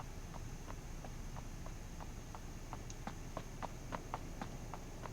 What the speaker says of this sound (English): I hear footsteps, but it's tough to tell if it's mine.